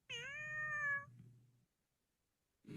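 A kitten gives one clear, drawn-out meow lasting about a second, close and alone in a quiet room, with a soft low rumble trailing after it.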